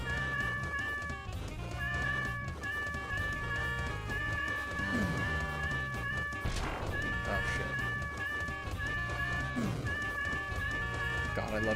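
Cats meow repeatedly in the video game Deltarune, several drawn-out mewing calls rising and falling over game music, with a person talking at times.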